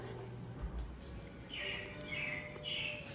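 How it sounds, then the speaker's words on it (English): Animatronic robins chirp as a show effect in Disney's Carousel of Progress, with several short, bright tweets in quick succession over a low, hushed room hum. "it looks like the Robins are getting ready to celebrate Valentine's Day today"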